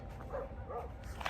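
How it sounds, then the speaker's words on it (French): Several dogs fight and bark somewhere below, the yelps and growls coming from a distance, faint over steady background noise. "il y a des chiens qui se bagarrent là en bas"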